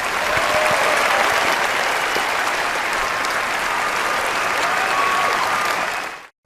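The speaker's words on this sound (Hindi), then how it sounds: "तालियां।" Dense, steady applause from many hands, a loud continuous clapping wash that holds evenly for several seconds and then cuts off abruptly, with no talk over it.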